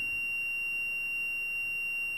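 Steady high-pitched continuous tone from a buzzer during a multimeter continuity test, unbroken and moderately quiet, with no talk.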